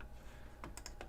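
A few quick keystrokes tap on a computer keyboard, soft and close, in a brief burst over a low background hum.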